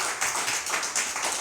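A church congregation applauds the Lord at an evening worship service, a short burst of clapping from many hands that swells and fades over about a second.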